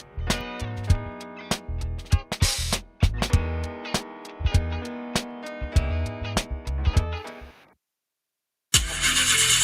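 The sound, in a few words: car engine failing to start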